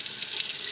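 Hot tap water pours steadily over a bottle of thick oyster sauce in a kitchen sink, a continuous close hissing splash.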